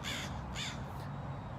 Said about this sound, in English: a crow right there.